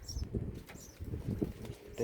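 A bird flutters and moves about inside a building, soft repeated wing flaps and scuffles in an enclosed space, fairly close, with quiet pauses between bursts.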